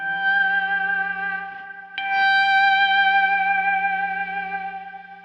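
Slide guitar pinched harmonic struck at the 15th fret on a G, ringing bright and sustained through effects with echo and distortion, a second attack midway renewing the tone.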